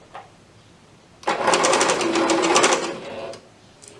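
Sewing machine stitching fabric for a plush teddy bear, one continuous close burst of rapid rhythmic whirring lasting about two seconds, with quieter moments before and after.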